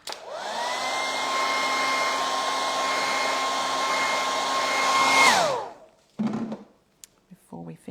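A hair dryer blows on freshly applied Fusion mineral paint on a stencilled primitive cottage sign, a loud, steady whir for about five seconds before it shuts off, followed by a few brief handling knocks.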